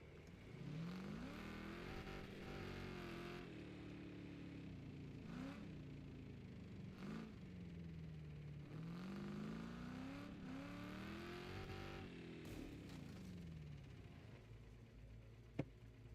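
Engine revving in the racing game Wreckfest 2, from a car with a blown head gasket. A steady, droning motor rises and falls in pitch through repeated throttle sweeps, close and continuous for the whole stretch, with no talking over it.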